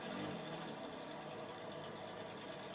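Hudson Hornet engine fitted to a Corvette in Forza Horizon 4, idling as a faint, steady low rumble that runs evenly throughout with no talk.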